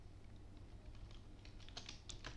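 Quiet, steady clicking of a computer keyboard as someone types code, with irregular bursts of keystrokes growing slightly busier toward the end.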